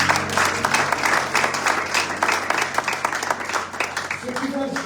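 A church congregation claps and cheers in praise of the Lord, a steady wash of applause and voices filling the room for several seconds.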